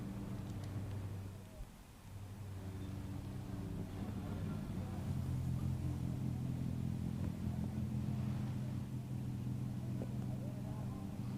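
A TCR touring race car rolls toward the pit lane at Termas de Río Hondo, its engine a steady, fairly loud low drone with a brief dip near the start, heard under a commentator's voice.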